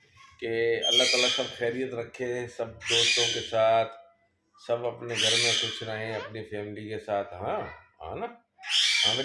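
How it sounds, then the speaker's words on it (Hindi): A pet parrot gives shrill squawks and chattering calls that come and go beneath and between a man's ongoing speech, close and fairly loud. "देखो हमारा तोता भी बोल रहा है ना"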